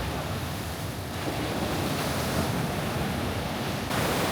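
Ocean waves crash continuously on a beach below cliffs in Bali, a roaring broadband wash of surf with wind buffeting the microphone, steady and close without voices.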